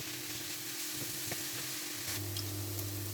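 Sauerkraut sizzles as it cooks and begins to caramelise in a pan, a steady, close hiss with faint pops and occasional light stirring, with a low hum underneath.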